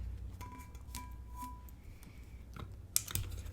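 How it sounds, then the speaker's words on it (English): Heat transfer tape is pulled and pressed onto a water bottle for sublimation, giving faint crackles and a few short tearing sounds. A couple of sharp ticks near the end stand out against a quiet background. "I'm going to use some heat transfer tape and just tape this into place."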